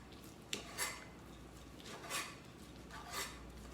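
A knife chops pastrami into bite-sized pieces on a cutting board, giving a few separate soft knocks and scraping strokes spaced out over several seconds, with no talking.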